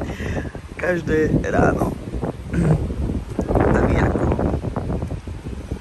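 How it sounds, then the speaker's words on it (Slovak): Strong wind buffets the microphone at breakfast outdoors on a holiday in Greece, a loud continuous rumbling roar that fluctuates throughout, with someone speaking over it. "lebo tak fúkal vietor, že proste to sa nedá"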